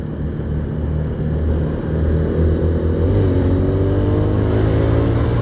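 A custom motorcycle engine with an FCC clutch lining roars steadily, close and loud, building slightly as the clutch is let out and the throttle is opened.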